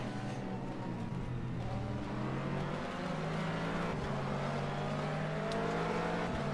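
Race cars, a Ferrari among them, roar steadily through a sports car racing video game at Mid-Ohio, with a continuous loud engine drone and shifting revs.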